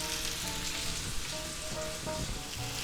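Chuck steak frying in a cast iron skillet, a loud continuous sizzle and crackle that stays dense and even throughout, heard close with no talking.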